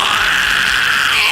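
A harsh, distorted metal scream vocal, one sustained raspy roar held for the whole moment, loud and close with no other sound.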